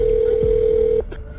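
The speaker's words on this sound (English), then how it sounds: "which led Alex Murdaugh to immediately dial 911" A steady ringback tone sounds loudly on a telephone call to 911, then stops abruptly partway through, leaving a quiet line.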